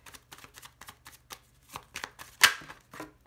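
A deck of playing cards is cut and then shuffled, giving a run of soft, quick riffling flutters that end in a brighter, louder burst of cards snapping together, then a few lighter taps.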